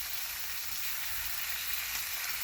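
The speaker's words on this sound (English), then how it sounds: "And all I'm trying to do is render down a lot of this grease." Bacon grease rendering in a new cast iron pan on a woodstove, a soft, steady hiss and fine crackle of sizzling fat, faint and continuous with no voices.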